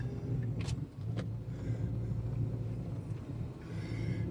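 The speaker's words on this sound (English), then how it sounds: "My Subaru gives me no trouble. I just went right up that hill." A Subaru car labors up a steep hill road in St Thomas, Jamaica, its engine rumbling steadily at moderate distance, with a couple of sharp knocks early on and no voices.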